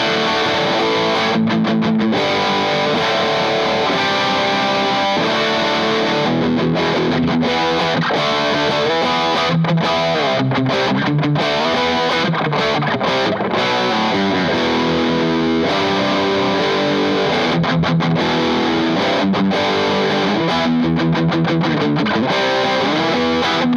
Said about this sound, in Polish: jak to gada na mocniejszym przesterze